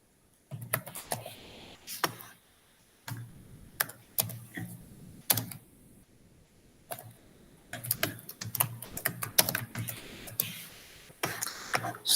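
Typing on a computer keyboard, close by, in uneven bursts of rapid clicking keystrokes separated by short pauses, with quiet gaps and a faint background hum.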